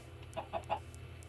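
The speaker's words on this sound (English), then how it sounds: "Come here, chicken." A chicken clucks in the video game Tekkit Lite, giving three soft, quick clucks in a row over a low steady background hum, faint and fairly close.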